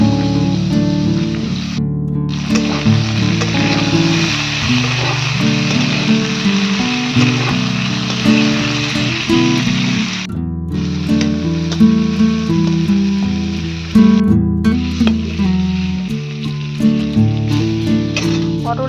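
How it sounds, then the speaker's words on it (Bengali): Pieces of pointed gourd (potol) fry in hot oil in a Bengali village kitchen, giving a steady, close sizzle that runs through the whole stretch with a few brief dips. "আর এবার আমি পটলগুলো ভেজে নেব তেলের মধ্যে দিয়ে।"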